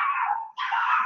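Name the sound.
puppies barking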